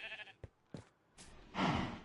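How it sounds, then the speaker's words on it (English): A sheep in the video game Minecraft gives several short bleats, then a louder, longer bleat, each one alone and near. "Sheep."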